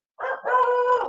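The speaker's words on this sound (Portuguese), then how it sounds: "tem um cachorro aqui na frente gritando" A dog outside cries out in one drawn-out, howling yelp, loud and close, with a short break partway through and no talking.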